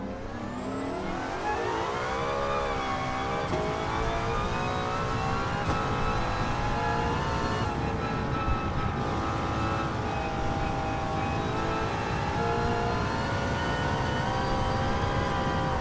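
A 1955 Mercedes racing car roars through a racing video game, its engine revving steadily and loudly the whole time with rising and falling pitch as it shifts and accelerates, with no talk over it.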